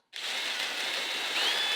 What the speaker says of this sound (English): I need better drill bits for drilling big holes.